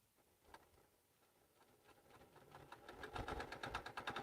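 A sewing machine stitches quilt pieces. It starts soft and sparse, then builds into a louder, rapid, steady run of stitches toward the end.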